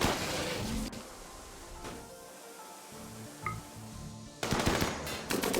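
Rapid gunfire bursts from RimWorld combat, loud at the start and again near the end, with dense broadband crackle and a quieter stretch between volleys.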